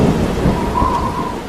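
Heavy tropical storm rain pours down in a dense, steady roar, with a deep thunder rumble rolling underneath throughout.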